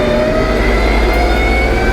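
A vehicle engine shifted up through second, third and fourth with a thumb clutch, revving loud and steady, close by with no talk.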